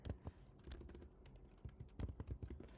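A terminal command typed on a computer keyboard, a quick irregular run of close, crisp key clicks with a few brief pauses, no voices.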